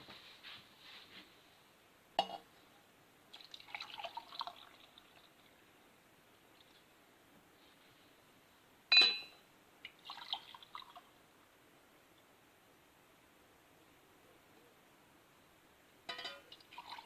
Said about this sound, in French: je vais chercher l'eau et je remplis tout ça